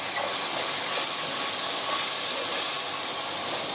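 Garlic ginger paste sizzles in hot oil over a high flame for an aloo anday dish, giving a loud, continuous, close hiss of frying with no pauses.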